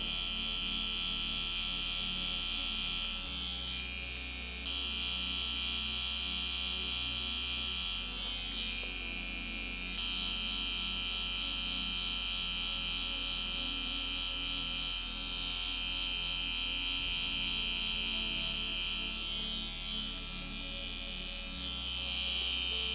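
A permanent makeup machine buzzing steadily while shading powder brows, a constant high electric hum with slight shifts in pitch as the needle moves, close and continuous with no talk.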